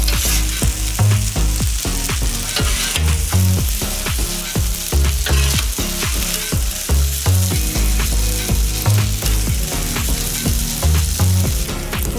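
Chicken pad see ew stir-fry sizzles steadily and loudly on a flat griddle, with constant crackling spatter and repeated scraping and tossing strokes of a spatula throughout.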